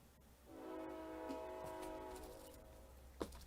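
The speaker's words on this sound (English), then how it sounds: "Oh, there's a train." A passing train blows its horn in one long, steady, moderately loud blast lasting a few seconds, followed by a brief clank.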